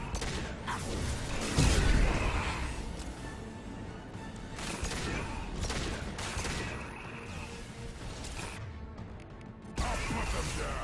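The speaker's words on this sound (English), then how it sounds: "Firing anti-ship batteries at collector vessel" Anti-ship batteries fire at a Collector vessel in the Mass Effect 2 game: loud, dense bursts of booming gunfire and crashing impacts over a steady battle rumble, with a heavy blast near the start and another surge at the end.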